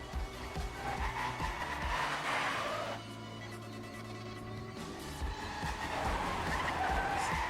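Racing car in a racing video game drifting and skidding, with steady engine roar and tire squeal that eases briefly midway, then rises again.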